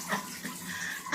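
Water splashes and sloshes during hand laundry as a cat plays in it, a close, continuous wet rush with small surges and a louder splash at the end.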